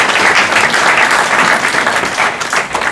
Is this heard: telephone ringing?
no